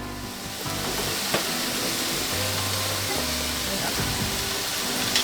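A veggie-packed stir fry sizzles steadily in a pan aboard a boat on a non-stop Pacific Ocean crossing, a continuous frying hiss with occasional pops and a low background hum, with no talking.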